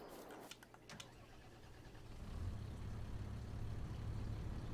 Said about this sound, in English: Hop into this tractor with the fertilizer spreader.